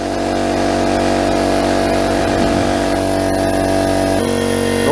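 A newly installed air compressor runs steadily on its first start-up, a loud continuous mechanical drone with a constant motor hum that shifts slightly in pitch near the end as it builds pressure.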